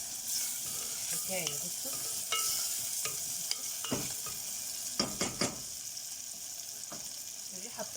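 Mahshi stuffing mixture fries in ghee and a little oil in a pot, giving a steady close sizzle broken by scraping stirs, with a brief voice speaking.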